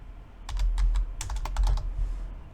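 Fingers typing a Linux terminal command on a computer keyboard, a quick irregular run of close, crisp key clicks in two bursts with a brief pause between, over a low background hum.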